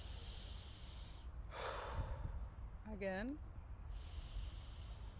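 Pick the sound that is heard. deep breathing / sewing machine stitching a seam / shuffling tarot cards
deep breathing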